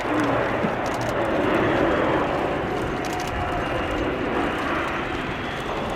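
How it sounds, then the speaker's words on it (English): An Airbus A400M Atlas makes a slow-speed fly-past at the RIAT 2019 airshow at RAF Fairford, its turboprop engines giving a loud, steady, broad roar that holds throughout with no break. "as this slow-speed fly-past demonstrates, the aircraft can also fly slowly enough to act as an air-to-air refueling tanker for helicopters"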